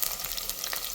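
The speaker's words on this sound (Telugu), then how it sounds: "ఈ ఆనియన్స్ గోల్డెన్ బ్రౌన్ కలర్ వరకు ఫ్రై అవ్వాలి." Thinly sliced onions fry in a pan for mutton biryani, giving a bright, steady, close sizzle with light stirring crackle and no talk.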